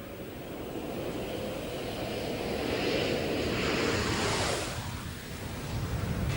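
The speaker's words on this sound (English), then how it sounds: "Pre-flare maneuver being performed. Landing gear coming down." Space Shuttle Atlantis on landing approach with gear coming down, a broad roaring rush of air that swells to a peak, eases off briefly, then rises again, distant and steady with no voices.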